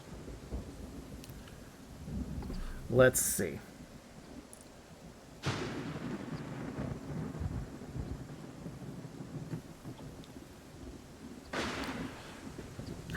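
Thunderstorm in the video game Wartales: distant thunder rumbles and rolls over a low, steady bed of rain, with a sharp crack early on, two more swelling rumbles later, and a brief spoken remark near the start.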